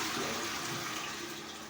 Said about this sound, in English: You flush the toilet.